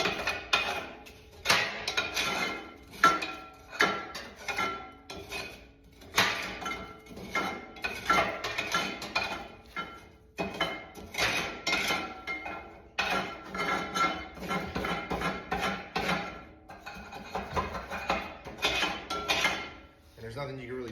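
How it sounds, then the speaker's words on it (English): A steel crowbar breaks up built-up chip inside a waste oil burner heating a 1700 sq ft shop, making repeated metallic clanks, scrapes and knocks in irregular bursts, close and fairly loud. "I just break it up with a crowbar"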